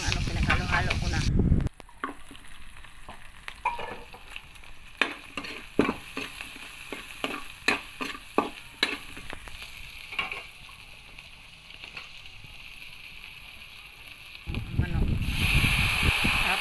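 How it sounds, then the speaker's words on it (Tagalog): Mixed ingredients for pancit bihon sautéing in a pan, a steady sizzle with repeated scraping stirs and clatter running throughout, louder bursts of frying at the start and end. "nagisa na ko ng pinaghalo-halo ko na"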